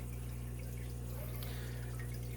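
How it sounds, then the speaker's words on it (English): Water dripping and trickling from an aquarium drip system in a fish room, a continuous splashing flow over a loud, steady low hum of equipment. "here's the drip system right here"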